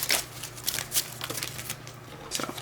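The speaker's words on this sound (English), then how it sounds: "These are old cards and they stick together sometimes. So I have to make sure I'm only pulling 1 card at a time." Old, sticky playing cards slid one at a time from a deck: soft, close papery swipes and flicks in an uneven rhythm.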